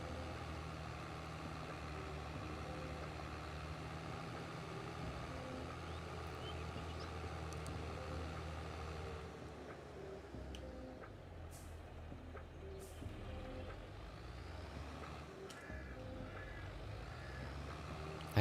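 Tractor engine in the farming video game Farming Simulator 22, a steady low diesel idle rumbling continuously at moderate volume, with a few faint clicks and a slight shift in tone partway through.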